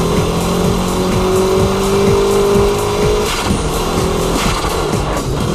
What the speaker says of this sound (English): Let's compare the high-speed drift and the show drift laps at Ebisu.